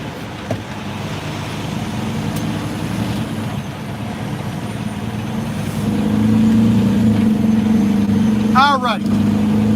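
Semi truck engine idling then pulling away from the Port of Baltimore in Dundalk, a steady low diesel drone from inside the cab that rises as it gets going, with a brief air-brake hiss near the end.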